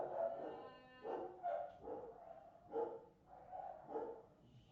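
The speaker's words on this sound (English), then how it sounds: "Mute it because the dog is barking" A dog barks repeatedly somewhere in a home, faint and somewhat distant. The short, harmonic barks come in an uneven series with brief pauses between them, and no talking.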